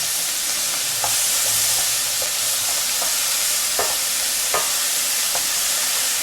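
Collard greens fry in hot oil for an Italian-style dish, giving a loud, continuous sizzle with scattered crackles and a few sharp pops and stirring scrapes throughout.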